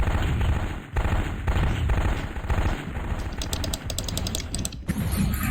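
MechWarrior 2 mech weapons fire as a group, dense rapid bursts of autocannon and machine-gun chatter with electronic laser zaps near the end, loud and close, with no talk over it.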